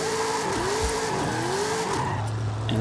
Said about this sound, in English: We're gonna be drifting some new cars that I haven't drifted before.